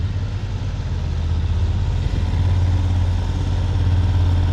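A motorcycle engine turning over steadily at slow riding speed, a low, even throb near the listener that holds without a break and with no talk.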